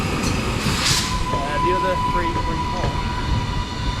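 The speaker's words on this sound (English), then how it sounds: "arriving here is the 11:31 Northern service from Wigan North Western to Liverpool Lime Street, 331024. 323 is arriving" A Northern class 331 electric train arrives at a station, a steady low rumble and hum with a high whine and brief squeals, while a person speaks briefly over it.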